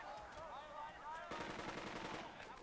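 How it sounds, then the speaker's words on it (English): Machine gun fire in the tactical war game Burden of Command, rapid rattling bursts that grow denser midway, layered over faint voice-like radio chatter and a soft background score. "We're taking fire."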